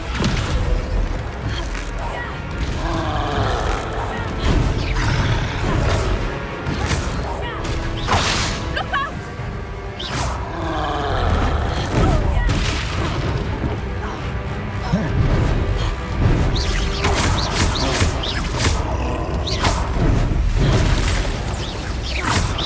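Repeated Expelliarmus spell effects in Hogwarts Legacy combat, loud whooshing bursts, cracks and booms layered over dense game music and battle noise throughout.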